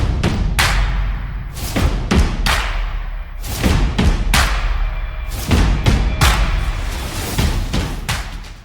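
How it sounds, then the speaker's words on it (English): Rambolina, a creature in the video game Phobies, walks with heavy thumping footsteps, a loud, close series of evenly paced booming thuds repeating throughout with no talking. "I love the sound Rambolina makes when it walks."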